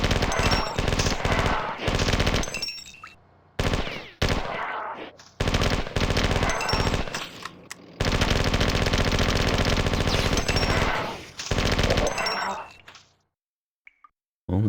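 Rapid machine gun fire in the classic first-person shooter Marathon 2: Durandal, loud sustained bursts of chattering shots broken by short pauses, ending in near silence with a couple of faint clicks.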